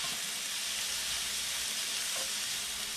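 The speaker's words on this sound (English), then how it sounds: "you can always add a little bit of water to it. Put it in here. And that helps the vegetables steam." Vegetables for fried rice steaming and sizzling hard in a hot pan after a splash of water, a loud, steady, close hiss with no voices over it.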